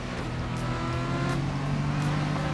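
Rear-wheel drive car in the racing game GRID Legends, engine droning loud and steady with a rising tonal whine throughout, no voices over it.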